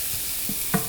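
Onions and spices frying in a pan as they are stirred: a steady, close sizzle with a few soft scraping stirs and one brief louder clack near the end, with no voices.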